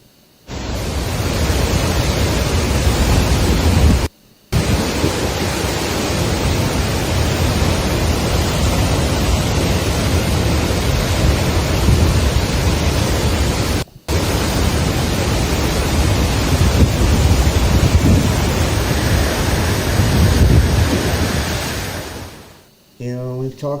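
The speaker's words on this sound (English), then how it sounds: "Torrents of water." Torrents of floodwater rushing through a New South Wales town, a loud, steady broadband roar that runs almost unbroken, with two brief dropouts before it fades at the end.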